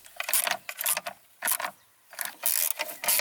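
Nuts tightened on the cable duct of a Hyundai Santa Fe 2.2 CRDI filter housing, rapid clicking ratchet bursts in short repeated runs with brief pauses between, close and clear, no voices.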